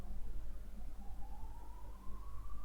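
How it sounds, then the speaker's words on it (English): Ambulance siren far off in the background, a faint rising wail under a low steady hum, distant and quiet throughout. "Another ambulance"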